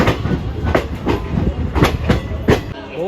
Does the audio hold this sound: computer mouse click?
no